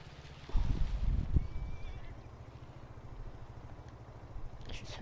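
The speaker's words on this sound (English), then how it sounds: "I should switch that engine off" An engine idles on a farm with a steady, low, rhythmic rumble, joined by a louder burst of knocking near the start, with no talk over it.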